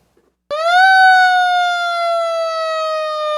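A new fire engine, Engine 82, starts its siren abruptly, rising to a loud steady wail that holds with a slight downward drift, close and unaccompanied.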